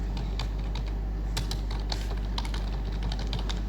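Someone types briskly on a computer keyboard, with a quick, uneven run of light clicking keystrokes close to the microphone over a faint steady hum.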